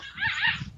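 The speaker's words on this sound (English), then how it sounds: "You hear that? Yeah. That's my puppy." A playful puppy gives a couple of quick, high-pitched yips and whimpering barks close by, short and bright.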